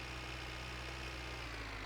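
Tractor engine idling or running steadily in My Winter Car, a low, constant mechanical drone that holds unchanged throughout, fairly quiet and with no voices.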